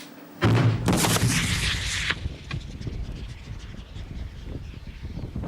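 Cannon firing chain shot outdoors, one sharp loud boom followed by a long rolling echo and rumble that slowly fades.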